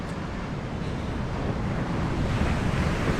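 Surf rolls steadily onto the northern California coast near Eureka at a busy fishing spot, a continuous broadband wash of waves with wind rumbling across the microphone and no voices.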